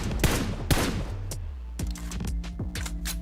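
Rapid bursts of gunfire from a PUBG Mobile esports match crack out in sharp repeated volleys over a steady game-ambience bed, with several distinct shots and rattling fusillades across a few seconds.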